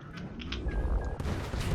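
Cannons firing in a cannon room of the video game Isopod: A Webbed Spin-off, a dense stream of overlapping booms and pops running steadily, with brief tonal game blips layered over the top.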